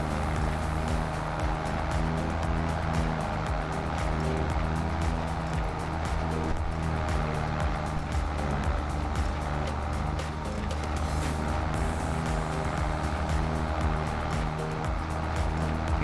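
Video game tractor engine running at full throttle, a steady low droning hum with constant harmonic tones, sustained without letup and fairly loud throughout.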